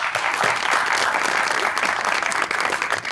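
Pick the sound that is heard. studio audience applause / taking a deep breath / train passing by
studio audience applause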